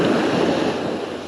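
Steady roar of ocean surf breaking on a Florida beach, a continuous close wash of water with wind, no voices.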